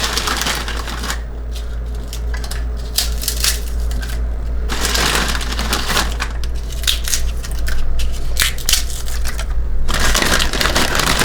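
Pork rinds are crushed by hand, making a busy, close crackling and crunching that comes in dense bursts with short pauses, fairly loud and continuous throughout.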